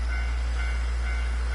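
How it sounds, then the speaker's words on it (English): A railway crossing with a passing train in the video game Nostalgic Train, heard as a steady low rumble under a faint, evenly repeating bell-like tone that carries on unbroken throughout. "And there it is, the sound of a railway crossing."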